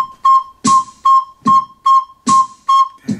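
Recorder playing a held C note, tongued in eight short, evenly spaced attacks with a steady pitch and crisp breathy onsets, close and clear with no talking.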